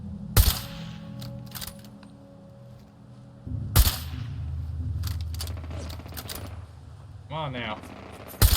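A sentry bot in Fallout 4 fires its guns in sharp, loud cracks spaced several seconds apart, with a low mechanical hum between shots and someone briefly speaking.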